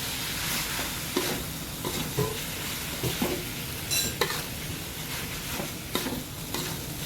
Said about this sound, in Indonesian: sekarang kita akan masukkan ayamnya ya, yang kita sudah suwir